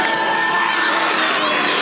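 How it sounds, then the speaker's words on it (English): A packed stadium crowd cheers continuously at a Franklinton versus Wake Forest high school football game in Franklin County, a dense roar of voices with scattered shouts and whoops. "A packed stadium in Franklin County as hundreds watch Franklinton and Wake Forest, two undefeated teams battling for bragging rights"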